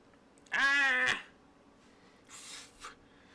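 One loud, drawn-out cat meow rings out close by, followed after a pause by two fainter, breathy cat calls; no one speaks.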